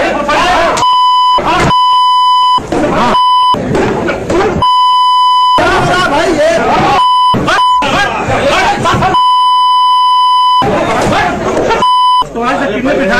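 Repeated steady censor beeps cut over a crowded Hindi news clip of a BJP MP and MLA clash, each tone lasting about a second and alternating with loud stretches of chatter and talking.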